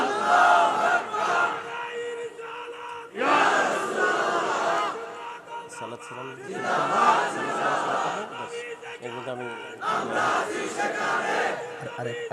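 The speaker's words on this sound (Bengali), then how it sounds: "একটা স্লোগান হবে" A large crowd at an Islamic religious sermon chants a slogan in loud, rhythmic unison bursts, each call answered by a roaring group response, repeated several times with short pauses between.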